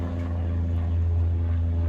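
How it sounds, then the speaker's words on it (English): A propeller plane flies by overhead, a steady, loud low droning hum that holds throughout without voices. "Let me let the plane go by."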